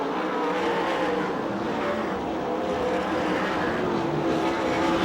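USAC/CRA sprint cars racing on the track at Perris, California during the Jeff Bagley Classic, a steady loud roar of engines holding throughout with no break.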